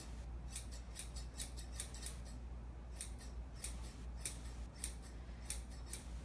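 Grooming scissors snip through a poodle's coat in quick repeated bursts of crisp clicks. The cuts come in irregular clusters over a low steady hum, close up, with no talking.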